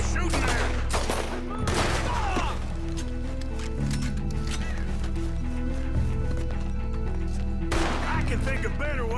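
Gunfire in Red Dead Redemption 2 at night, several loud shots and bursts scattered through a steady game soundtrack, with someone talking over much of it.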